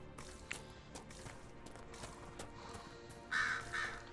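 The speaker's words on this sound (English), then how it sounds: "One of Liliana's crows." In the fantasy game Dragon Age Inquisition, a crow caws twice in quick succession near the end, faint amid soft footsteps and ambient game sound.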